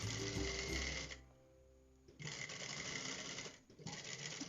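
A sewing machine sews a waistband seam about a centimetre in, running in close, loud bursts of rapid stitching that drop to near quiet for a second in the middle, then resume steadily.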